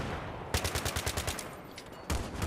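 Automatic gunfire in a Battlefield 3 match on the Grand Bazaar map: a rapid burst of about a dozen evenly spaced shots, loud and close, a pause, then another shot starting a new burst.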